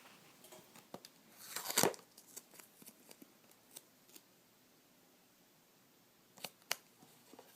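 Scissors snip through duct tape for a small wallet: one sharp, loud cut among scattered light clicks and handling rustles, then a pair of quieter snips near the end, all close up with no voices.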